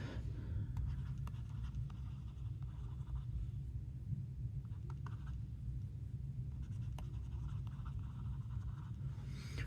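A stylus scratches softly across a Bigme B7 7-inch color ePaper tablet screen, producing faint, close, continuous writing strokes over a low steady background rumble.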